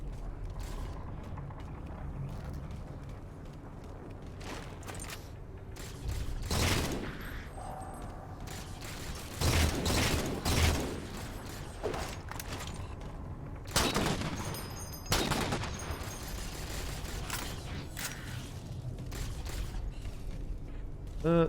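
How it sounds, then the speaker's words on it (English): Sniper rifle fire on grunts in the video game Halo 4, heard as a handful of sharp, loud shots spaced several seconds apart over a steady game background with mechanical clicks. "Sniper rifles on grunts is a kind of a waste"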